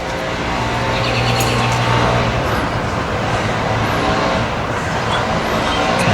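An Onin Marques 7000 engine runs steadily and loudly after its gas line is refitted, giving a continuous close rumbling drone with no pauses.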